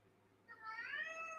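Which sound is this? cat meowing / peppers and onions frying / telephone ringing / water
cat meowing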